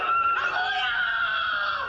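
A boy screams in distress during a shooting, his voice high and sustained, loud and unbroken for the whole moment.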